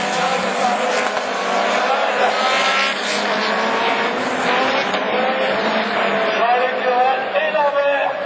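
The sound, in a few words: rallycross race cars starting a Division 3 heat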